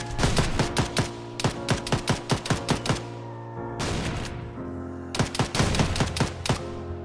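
Rapid bursts of shotgun fire in the video game Ravage missions, loud sharp blasts in quick irregular runs over a steady game background hum, with a brief lull before another volley.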